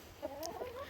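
Chickens in a backyard run with a compost heap give soft, faint clucks and short murmuring calls in a brief snatch of low farmyard sound.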